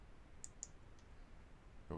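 Computer mouse clicks, two or three quick light clicks close by, faint against quiet room tone.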